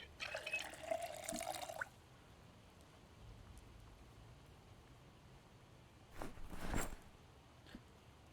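Water pours into a bottle in the Project Zomboid video game, a steady splashing, trickling rush lasting about two seconds, followed by quiet with a brief watery burst later.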